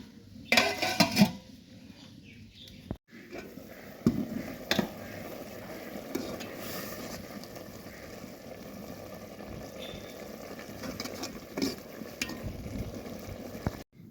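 A pan of small fish curry with tomato is set on a stove with metallic clanks and clatter, then a steady, low cooking noise continues with scattered knocks of utensils.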